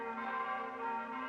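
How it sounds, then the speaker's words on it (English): Bells ring in the film Mothra, a sustained metallic tone with layered ringing overtones that swells slightly and hangs on throughout. "When you hear the bells, they sound like the girls' voices to me."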